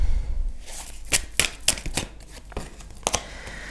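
Tarot cards shuffled by hand for a new spread, a string of crisp close riffling snaps and flicks in irregular bursts, with no talk over them.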